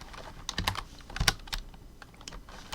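Japanese text being typed on a computer keyboard, a close run of irregular key clicks in small bursts with short pauses between them, no talk.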